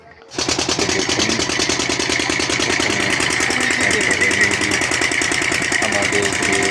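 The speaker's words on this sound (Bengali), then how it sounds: "আমাদের যে লঞ্চ ছিল ভারতী, সেটি স্টার্ট হয়ে গেছে।" The river launch Bharati's engine runs steadily after starting, a loud close rhythmic diesel chug that rises within the first half second and holds level throughout.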